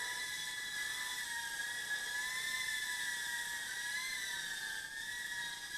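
The Floureon FX-10, a tiny mini quadcopter, hovers with a steady high-pitched electric whine from its small motors, constant and fairly faint, pitch wavering slightly.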